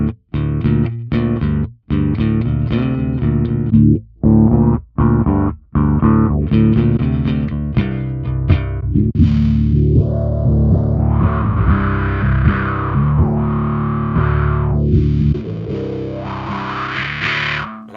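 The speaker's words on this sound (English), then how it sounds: "I like that the filter on the bass." Fender Mustang bass played through a wah, fuzz and filter effect, starting with choppy distorted staccato notes and gaps, then a sustained fuzzy line with a sweeping filter opening and closing, loud and alone.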